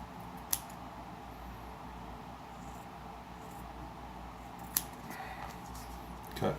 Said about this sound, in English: Cut 2 strips.